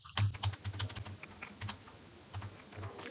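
Someone types on a computer keyboard nearby, producing irregular clusters of soft key clicks with short pauses between bursts, quiet and alone with no speech.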